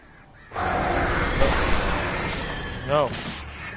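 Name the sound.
crows cawing and attacking, from the video game Alan Wake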